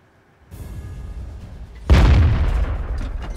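Two heavy booming tank cannon blasts in the video game World of Tanks, one at the start and a louder one a little later, each followed by a rumbling tail.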